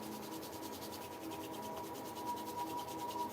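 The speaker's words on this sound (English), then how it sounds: "bring the palms together again, and then rub them again in a circular motion as fast as you can" Palms rubbed together fast in a circular motion, a soft, rapid, rhythmic swishing friction that repeats evenly and stays faint and close throughout, with no talking.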